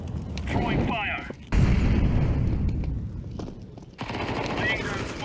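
Video game combat sound after a fire grenade is thrown: a sudden loud burst of explosive, crackling noise cuts in, followed by sustained rumbling gunfire and blasts, with a second burst later, all mixed under ongoing voice chatter.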